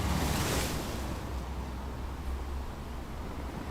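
Sea waves break in a continuous wash of rushing surf, strongest at the start and then settling into a softer, even roar with no voices.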